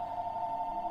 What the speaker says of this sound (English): That's a coincidence that the phone just rang when I'm just talking about that type of thing right now.